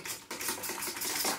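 A spoon stirs and scrapes through a thick homemade family food mixture seasoned with salt and pepper, giving brief clattering and scraping sounds, close and fairly loud, with no talking.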